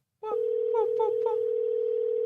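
An unanswered phone call to Philly produces a steady, continuous electronic line tone that starts suddenly and holds at an even level, with a voice talking briefly over its start.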